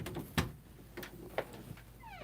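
A cat waiting at a door makes a few short meows and scratchy taps, faint and nearby, with a rising chirp near the end.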